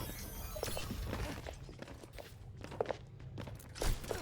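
Widowmaker's footsteps in the video game Overwatch: faint, uneven steps patter in a quiet match, with a couple of slightly louder footfalls near the end.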